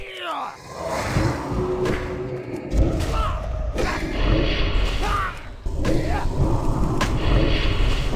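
Bombardier artillery fire in World of Warcraft, repeated heavy thuds and booming impacts with whooshing debris, loud and continuous over game background sound.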